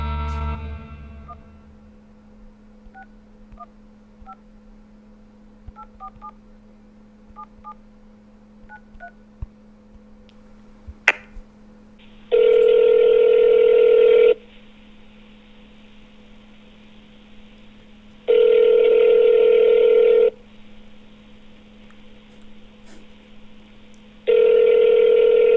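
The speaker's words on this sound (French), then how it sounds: "je l'ai même appelé en vidéo pour voir qui était derrière ce numéro" Touch-tone phone keys beep through a quiet stretch, then a video call rings out in three loud, evenly spaced tones with silent gaps between them.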